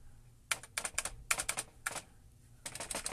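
Keys clacking on the keyboard of an old Compaq Portable computer, a quick run of sharp, irregular strokes with brief pauses, close and fairly quiet, with no voices.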